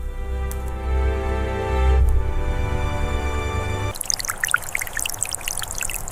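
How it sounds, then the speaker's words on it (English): Meltwater flows steadily through a Siberian valley in the thaw, a broad rushing wash of water that comes in after a low droning opening and carries on to the end. "The sound of flowing water draws the bear toward the valley floor"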